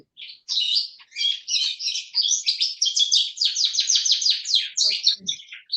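Birds outdoors sing loudly and continuously in a dense stream of high, rapid chirps and trills that hardly pause. The singing is close and bright, with no voices over it.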